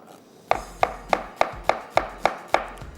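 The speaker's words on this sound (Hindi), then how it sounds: "1 अदद चाहिए प्याज, इसको करते हैं स्लाइस" An onion sliced with a knife on a board, eight crisp, evenly spaced chops, close and loud, each a sharp thud with no talking.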